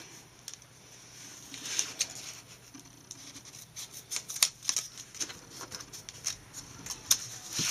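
Scissors snip through mummy candy bars in a string of short, crisp cuts, irregular in rhythm and close up, with light rustling of wrappers between the snips and no voices.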